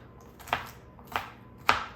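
A knife chopping a garlic clove on a cutting board, three sharp, evenly spaced thuds close by, each with a short ringing tail.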